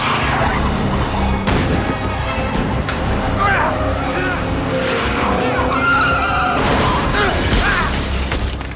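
In a Training Day film scene, a car swerves with squealing tires and then crashes, with repeated skids, thumps and impacts, loud and chaotic, over voices.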